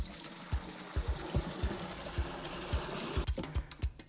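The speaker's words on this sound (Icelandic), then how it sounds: "við ætlum að byrja á því að setja fullt af vatni, 30 lítra af vatni ofan í þetta tóma fiskabúr" Water pouring and splashing steadily into an empty fish tank, about 30 litres, with a continuous gushing rush and soft thumps, stopping abruptly near the end into a few scattered drips and splashes.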